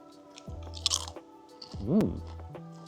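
Thick mature cheddar potato crisps crunched and chewed close up in Scotland, a few crisp bites followed by chewing, faint and alone.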